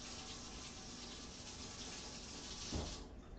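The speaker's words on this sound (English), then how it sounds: "I rinse my frother off" A milk frother is rinsed under a running kitchen tap, a steady close broadband rush of water lasting throughout with a brief splash near the end.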